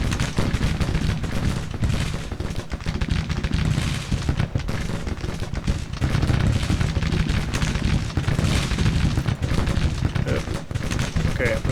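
A brigade fires in Grand Tactician: Civil War, set in the Shenandoah, a dense, continuous roll of musketry and booming shots with no break, loud and close, with a voice speaking over it.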